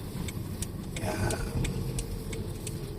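A student driver's own car turning a corner on a driving lesson: a low, steady engine hum close by, with faint rhythmic ticking, likely the turn signal, running over it.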